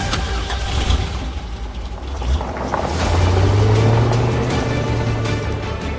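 A cartoon jeep with a container tied to it drives away, its engine rumbling loud and close, then rising into a steady higher drone as it pulls off.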